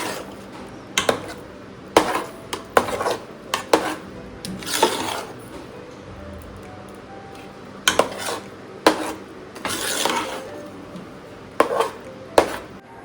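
A spoon scrapes and knocks against a pan while stirring a jaggery puran filling over low heat, giving irregular close clinks and scraping strokes spread across the stretch with quiet pauses between.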